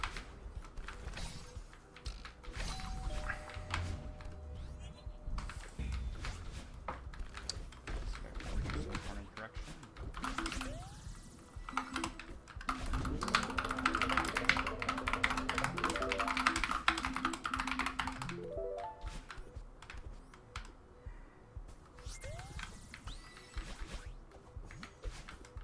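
Keys clatter on a mechanical computer keyboard in steady bursts, with faint background sounds throughout.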